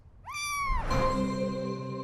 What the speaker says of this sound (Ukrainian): Я взяла кота.